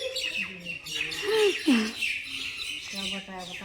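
Birds fighting in a village, sharp squawks and chirps close by in rapid bursts, rising to loud harsh calls midway, with a person talking at times underneath.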